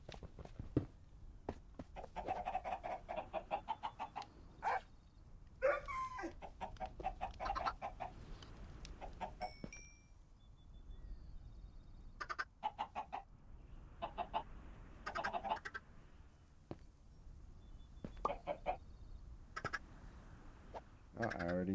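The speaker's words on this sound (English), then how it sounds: "Okay, some more chickens." Chickens cluck in a survival video game, with repeated soft clucks and squawks scattered over a busy, low-level game soundscape.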